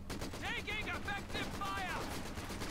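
Rapid machine-gun fire from a Vickers gun in Company of Heroes 2, a steady rattle at moderate level heard beneath a voice.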